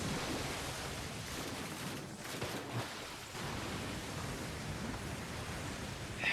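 Steady broadband rushing roar of a waterfall in a Naruto anime episode, a continuous dense wash of falling water filling the scene, loud and unbroken with a brief dip midway.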